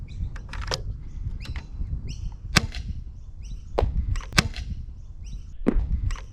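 A Dart Zone Mk-2 foam dart blaster fires several sharp, snappy shots in an irregular rhythm, each a brief crack or thwack standing out from a low rumbling background, with no talk over them.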